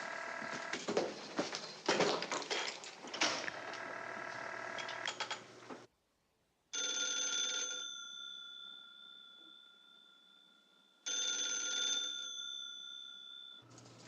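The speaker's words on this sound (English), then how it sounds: "Answer your phone, Blondie." An old telephone bell rings in a 1950s film scene, two long ringing bursts with a short break between, heard alone after a stretch of busier sound.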